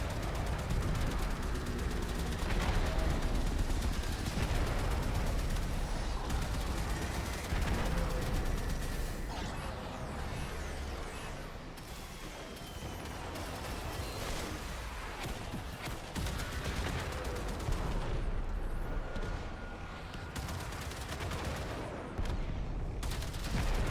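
Sustained, dense gunfire from mounted guns in the sci-fi shooter Warframe during an attack, a loud, continuous barrage of rapid shots and blasts lasting throughout with no talking.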